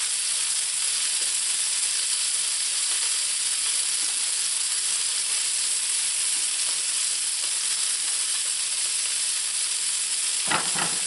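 Puffball mushroom slices frying in a mix of butter and olive oil on a stovetop, a steady loud close sizzle throughout, ending with a brief sharp clink or stir.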